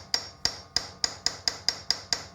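A hammer strikes metal eight times in an even, steady rhythm while work is done on the clutch of a 1982 Yamaha XT 250 motorcycle, each blow a sharp, close ringing clank.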